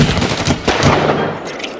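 Gunfire from a film trailer comes as a rapid, loud burst of several close shots over music and effects, quickly fading out.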